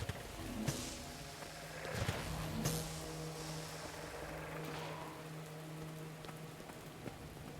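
Video game rainstorm, a quiet steady hiss of rain on surfaces with a low hum beneath it and a few sharper drops or cracks, faint and continuous.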